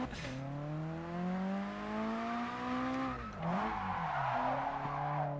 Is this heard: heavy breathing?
no